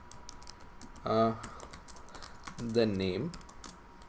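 C++ code is typed on a computer keyboard in rapid, close clicking bursts, with someone speaking briefly twice over the keystrokes.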